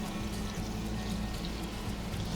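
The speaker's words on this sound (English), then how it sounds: "So the oil has just started to shimmer, so we're going to put our meat in." Meat goes into shimmering hot oil and sizzles in a steady, broad crackling hiss that holds at an even level, close and loud with no talk.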